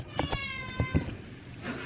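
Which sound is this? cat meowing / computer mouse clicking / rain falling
cat meowing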